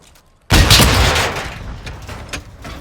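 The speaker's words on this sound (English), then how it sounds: "This comparison shows the differences in damage decals used when shooting an armored target with an RPG." An RPG rocket hits an armored tank in a shooter video game, one sudden loud blast followed by a rumbling, crackling tail that slowly fades.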